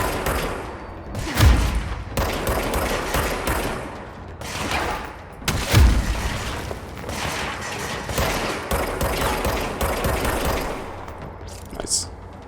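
Gunfire in the action game Control comes in bursts of rapid shots with heavy thumps, loud and close, while a voice talks between and over the volleys.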